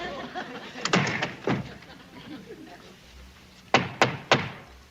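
Knocks on the wooden door, or hatch, of a military duty hut: a few heavy thumps early on, then a later run of three sharp, loud raps.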